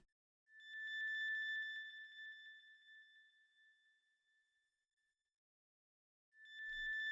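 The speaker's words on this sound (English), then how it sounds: "Next, I've got this expand texture. It's called North Star. It's in the ambience and effects section" High A note on an ambient synth pad called North Star, with a bright, steady, twinkling tone that swells in, slowly fades away, and returns briefly at the end, soft and alone.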